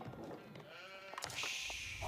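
Faint bleats from Age of Empires sheep waver briefly over steady game ambience, the thin quavering calls close and short with no talk on top.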